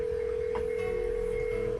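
Telephone dialing tones in a Nancy Drew video game, a sustained steady tone with a brief higher blip partway through, heard clearly without talking.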